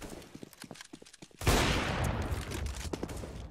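Gunfire in Counter-Strike: Global Offensive during a competitive match, with a few faint clicks and footsteps, then a sudden loud burst of shots that rolls into a sustained rattling volley.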